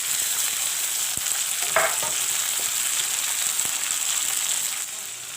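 Cut onion and chopped tomatoes fry in a pan with a steady, bright hissing sizzle throughout, broken by a few soft clinks of stirring, no talking.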